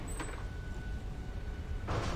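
A door in the Harry Potter and the Chamber of Secrets video game slides open with a brief whoosh, then settles quietly before a second rush of sound near the end; no speech.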